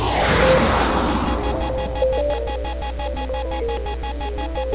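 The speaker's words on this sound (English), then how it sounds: "There's an emergency alarm going off in Alex's apartment." An emergency alarm rings in Alex's apartment in the video game Double Switch, a loud, steady electronic pulsing repeating rapidly and evenly throughout, with no talk.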